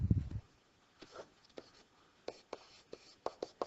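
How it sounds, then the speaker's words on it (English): Marker or chalk strokes on a board in a programming lecture, a series of short scratchy taps and squeaks at irregular intervals, quiet and close, after a brief low murmur at the start. "let me write it over here."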